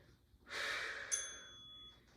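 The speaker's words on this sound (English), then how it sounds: "So you hear my breath" Heavy, forceful exhalations during a postpartum glute workout, close and fairly quiet, one long breathy rush that trails off without talk.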